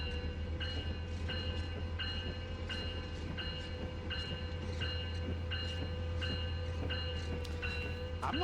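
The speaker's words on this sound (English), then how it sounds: "we were able to get the train moving so fast" Train in Train Sim World 4 rolling steadily along, a constant low rumble under a rhythmic clatter of wheels over rail joints about every 0.7 seconds, loud and continuous with no talking.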